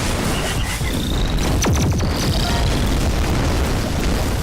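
A shell from an in-game tank in ShellShock Live explodes on impact, a deep booming blast with a falling whistle, set inside a dense, continuous wash of game noise and rumble.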